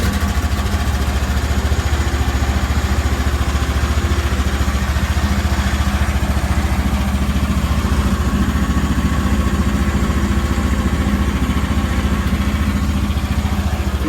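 A mini excavator's engine drones steadily and loudly up close, a constant low, rumbling idle with a faint clattering texture and no break over the whole stretch.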